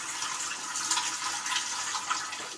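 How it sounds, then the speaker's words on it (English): Cold water runs full bore from a sink tap, a steady loud hissing gush close by with no voices. "Turn the water on cold water, full bore, and let it run for 3 to 5"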